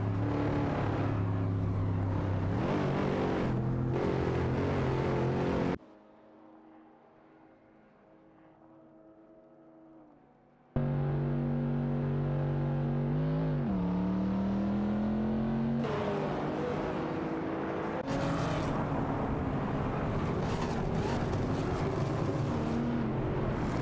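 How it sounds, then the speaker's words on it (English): Honda Civic Type R and Lotus Exige S race cars in a video game, their engines droning loudly and continuously, with a quieter lull midway before the revving roars back, pitch rising and dipping through gear changes. "It's a close competition with a mix of Honda Civic Type R15 and Lotus Exige S cars on the track."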